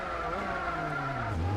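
A rally car in Gran Turismo 4 sliding with a steady engine drone and scrubbing tyre noise, the pitch dipping near the end, loud and continuous with no talk over it.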